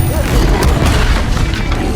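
A Levioso spell cast in Hogwarts Legacy lands as a loud, dense booming blast with rumbling low impact noise filling the whole moment, a shouted voice mixed in.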